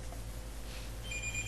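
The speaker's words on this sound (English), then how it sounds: "That's the phone" A telephone rings indoors, with a faint electronic tone entering toward the end over a low steady hum.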